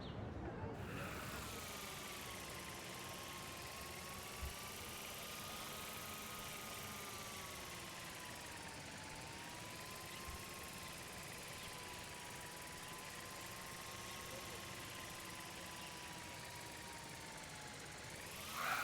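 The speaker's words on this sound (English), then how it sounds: "Here, give the drone a whirl" A drone in the video game Life Is Strange gives off a steady, close whirring hum that holds for the whole stretch, its pitch drifting gently up and down.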